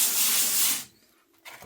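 Heavily diluted acid wash fizzing on glass fiber reinforced concrete poured a day earlier: a steady, fairly loud broadband hiss for under a second, then it cuts off to near silence with a faint rustle at the end.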